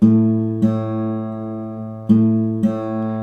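Two plucked guitar notes, one string matched by ear against the open A string, ring together, sustaining as their pitches align, with a second pair of plucks following after a short pause.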